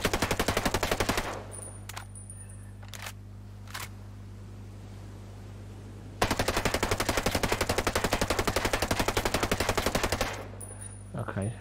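Full-auto bursts from the 553 rifle in Ghost Recon Breakpoint, fired at a target about five metres away. Two long sustained strings of rapid shots with a quiet gap between them, where a few single clicks and a steady electronic hum sit under the gunfire.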